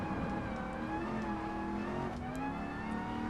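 A BMW M4 in Gran Turismo Sport drones steadily at high revs, a loud continuous engine note that holds and shifts pitch slightly as the car drives the track.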